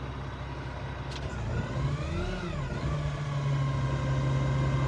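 A Kenworth T880 dump truck idles with a steady low engine drone, then its engine note rises and swoops as the hot shift PTO engages, settling into a constant hum with a brief click near the start.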